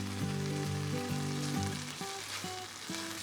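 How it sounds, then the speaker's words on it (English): Masala sizzles loudly and steadily in a hot pan, a continuous frying hiss with music playing over it. "When you're frying off your masala,"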